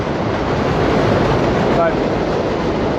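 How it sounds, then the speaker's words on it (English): A subway train, the 7 line, rumbles steadily somewhere below a walking route, a broad continuous roar filling the whole moment with no talk over it. "I think that's the 7 train below us."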